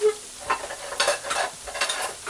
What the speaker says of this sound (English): you add your cut or chopped, no, it's not chopped, your cut green plantains in the heating oil